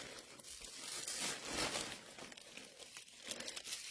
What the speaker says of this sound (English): Crumple it up.